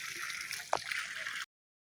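Water falls continuously onto the Shiva lingam at the ancient Tuti Jharna Shiva temple in Ramgarh, Jharkhand, a steady close splashing rush with one brief knock partway through before it cuts off.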